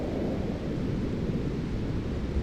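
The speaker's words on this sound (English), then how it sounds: "lightning strikes a nearby cedar tree" A lightning strike splits a cedar tree in the SNES horror game Otogirisou, heard as a dense, sustained rumbling crash of thunder-like noise, loud and steady throughout with no voices.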